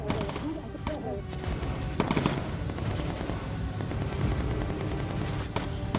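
Sustained machine gun fire in the World War II bomber video game Bomber Crew, dense rapid bursts with heavier impacts and booms layered in, loud and continuous throughout, with a voice talking over the shooting.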